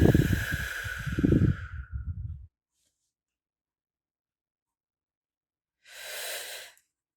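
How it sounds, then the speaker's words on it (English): Slow meditative breathing: a long, soft airy exhale with faint voiced rumble, then a few seconds of silence before a gentle, hushed inhale swells and fades, close and unhurried. "Breathe in and pause. Breathe out."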